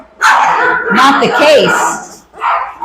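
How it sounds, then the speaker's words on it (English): Three-week-old puppies in a kennel bark and yip loudly in high, overlapping bursts close by, mixed with a person talking to them. "Oh, they're barking at me"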